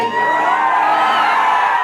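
An audience at an outdoor Bhojpuri stage show, a memorial event, shouting and cheering together in a steady, loud roar with no break.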